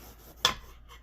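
A single knife cut through eggplant lands as a short, crisp slice against a cutting board, close and fairly quiet, with nothing else around it.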